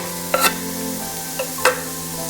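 Onion, ginger and garlic sautéing in a pan, with a steady low sizzle and a couple of sharp scraping stirs of the spoon near the start and again toward the end.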